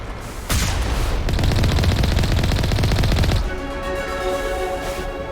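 Rapid sustained turret gunfire in Mass Effect Legendary Edition against Geth, a dense mechanical burst of shots lasting about three seconds, then fading into a lingering ringing hum.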